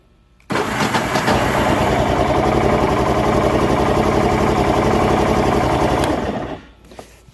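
A small motorbike engine with the choke off catches after a brief pause and settles into a loud, steady, buzzing idle for several seconds before cutting off abruptly.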